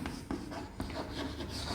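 Chalk or marker strokes writing a chemical equation for nitrogen reacting with hydrogen on a classroom board, close and dry, with short scratchy bursts and a few sharp taps.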